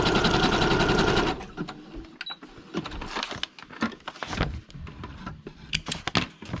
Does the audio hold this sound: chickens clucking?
no